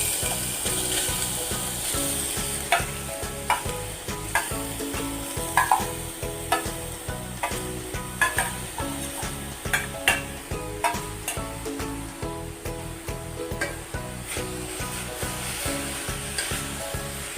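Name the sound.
grated beetroot sautéing in ghee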